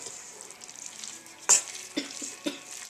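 Chopped mushrooms sauté in a tablespoon of melted butter with a soft, steady sizzle, broken by several sharp stirring scrapes and clacks of a utensil against the pan.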